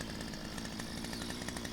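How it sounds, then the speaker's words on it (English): A chainsaw in the video game Lumberjack Simulator cuts into logs with a steady, loud buzzing drone that holds throughout without pause, and no one talks over it. "you now sight your chainsaw on this"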